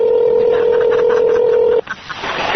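A steady telephone dial tone hums alone for nearly two seconds, then cuts off abruptly and gives way to faint room noise.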